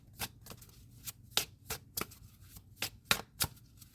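Tarot cards shuffled in a series of sharp riffling bursts, about eight quick rustling snaps spaced unevenly over a few seconds, close and fairly quiet with no talking.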